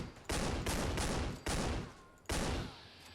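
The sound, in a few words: AA-12 shotgun fired unsuppressed, video game Fallout 4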